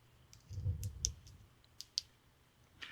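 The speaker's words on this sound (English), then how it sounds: "Turn signal click." Turn signal on a Velotric Nomad 2X e-bike clicking, a few sharp, light ticks spaced irregularly over a low rumble, fairly quiet and close.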